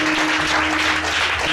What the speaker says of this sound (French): Est-ce que tu peux acclamer très très fort pour Jésus?